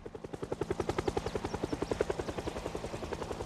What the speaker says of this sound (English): By the time he had all the pieces together, the whirring of the helicopter was imminent.